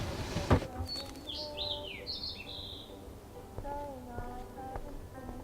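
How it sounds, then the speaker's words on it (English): A trapped bird in the video game Life is Strange gives faint, high chirps and warbling calls in short bursts, low in a busy game background with no talk. "That poor little bird has been trapped in here."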